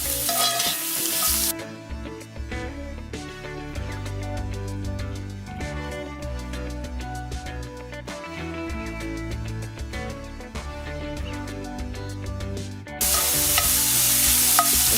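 Pork sausage browns in a cast iron skillet, a continuous crackling sizzle with rhythmic scraping and stirring, fairly loud and steady, with no talk over it.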